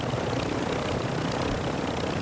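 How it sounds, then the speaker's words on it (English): A helicopter in the Warzone video game flies away, a steady droning rotor and engine hum, loud and unbroken throughout. "here he is in the chopper flying away"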